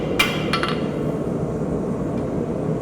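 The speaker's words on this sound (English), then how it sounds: "Hammer blows like this, which creates that curve." A hammer strikes steel over the horn of an anvil during a blacksmithing demo, bending it into a curve; two or three sharp ringing blows come early, then fade into a steady workshop hum.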